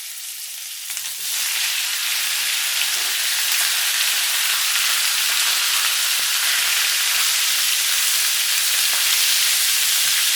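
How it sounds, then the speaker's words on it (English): Beef, a little over 3 pounds, sautéing in olive oil in a pan, giving a loud, steady, dense sizzle that kicks in after a quiet first second and holds without pause. "We're going to saute the beef first"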